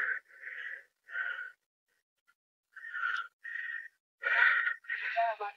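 Someone pants hard from the exertion of hiking on Palawi Island, with tired thighs: a string of short, rasping, partly voiced breaths in an uneven rhythm with a brief pause midway, close and fairly quiet.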